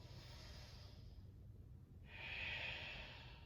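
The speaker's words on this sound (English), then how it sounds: "Two more big breaths." Deep breathing during a vinyasa yoga flow, one soft airy breath fading out, then a stronger, louder breath after a brief pause, close and unaccompanied by talk.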